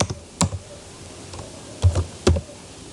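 Keys tapped on a computer keyboard while a MATLAB function is typed, a few sparse, close clicks arriving in small clusters with quiet gaps between.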